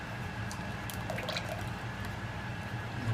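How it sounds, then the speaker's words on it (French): Organic soy cream pours into a sauce in a kitchen, giving a soft steady liquid trickle with faint splashy drips over a continuous low background, fairly quiet and without talking. "Michael va rajouter à peu près 20 centilitres de crème de soja bio."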